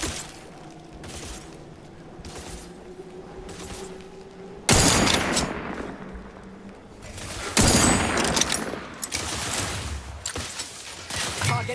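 Gunfire from The Outer Worlds 2 game erupts in two heavy volleys, each a sharp, loud burst of shots that decays into clatter and debris, while a low hum lingers in the quieter stretches before and between.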